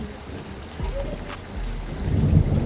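Rain falls steadily in a storm while deep thunder rumbles low through the middle and swells louder toward the end, close and full.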